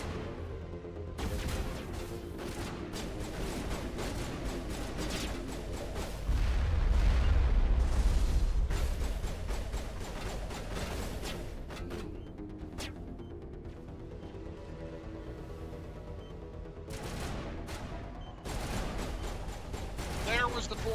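Bomb blasts and gunfire in the Mass Effect video game sound as a dense run of booming explosions and sharp crackling bursts, with a heavy low rumble in the middle, mixed under game music and effects.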